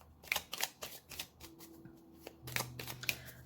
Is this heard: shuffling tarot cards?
yes